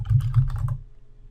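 A short burst of rapid keystrokes on a computer keyboard, typing a field name into an Excel 2013 calculated field dialog, lasting under a second before giving way to a low steady hum.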